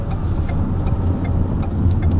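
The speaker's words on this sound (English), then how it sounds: "We're just driving over to the church up here" Car driving along a road to a church, with a steady low engine hum and tire rumble inside the cabin, continuous and fairly loud with faint rattles on top.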